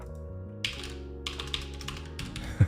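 Keys on a computer keyboard clatter in short, irregular clusters of taps over a steady low electronic hum, close and moderately loud, with small pauses between the bursts of typing.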